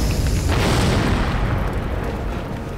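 A loud explosion in a Korean TV drama, a firehouse-and-police-station series, opens with a heavy boom and a broad rumbling roar that stays strong for nearly three seconds with no talk.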